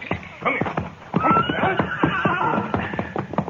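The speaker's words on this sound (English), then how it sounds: "you take the gray horse, Jane." A gray horse whinnies loudly and close by, with hoofbeats clopping around it and voices talking over the scene.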